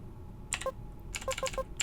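Typing on a computer keyboard to start Buddy Simulator 1984, a handful of quick, close keystrokes in two short bursts with soft electronic blips between, quiet and without talking.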